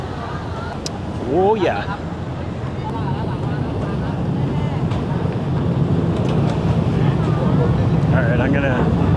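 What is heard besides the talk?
tour boat ride on the Chao Phraya River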